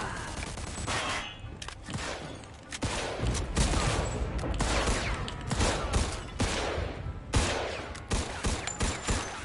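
Dense, rapid gunfire from a shootout in the video game Mafia II, with bursts of shots overlapping almost without pause, loud and close throughout.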